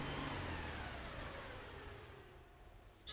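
A small car drives along in the video game Dordogne, a soft engine drone that slowly fades as it moves away, quiet and steady with no voices.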